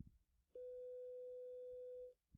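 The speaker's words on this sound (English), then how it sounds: "I'm going to pull out my tone app on my phone again and play a tone of 500" A steady 500 hertz test tone from a phone tone app sounds alone for about one and a half seconds, starting and stopping abruptly against a quiet background.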